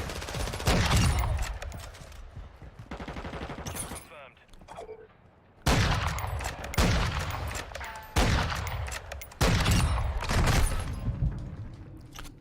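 SPR rifle gunfire in Call of Duty MW2, several sharp loud shots spaced a couple of seconds apart with mechanical clatter between, while a voice talks over the action.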